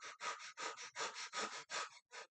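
Quick, rhythmic breaths in and out, about a dozen short huffs in a steady pant, close and fairly quiet, ending in a brief pause.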